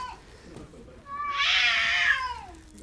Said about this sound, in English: Well, I tried to break the cats up